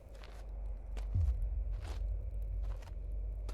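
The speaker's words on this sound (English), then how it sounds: "Oh, we're starting to hear the footsteps already." Footsteps in the horror video game Apparition on Nintendo Switch: a handful of soft, irregularly spaced steps over a steady low rumble, with no one talking.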